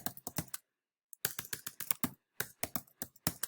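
Bursts of typing on a computer keyboard, close and crisp, with rapid clustered key clicks separated by short pauses and one longer silence.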